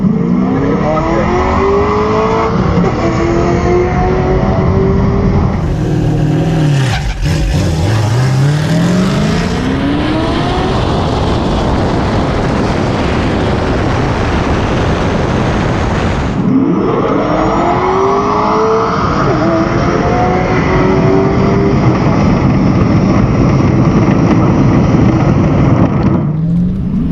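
A drag race car launches down the quarter mile, its engine roaring loud and continuous as it revs through rising gear sweeps, with the sustained blast of a hard run and no audible talk.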